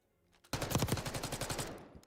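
A rapid burst of automatic gunfire in a Call of Duty match, roughly twenty evenly spaced shots in a sharp, rattling stream that stops abruptly after about a second and a half.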